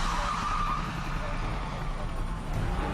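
A fleeing car's tires skid on the I-240 interstate as police try to spin it out during a high-speed chase, a loud continuous roar of tire and road noise with engine drone.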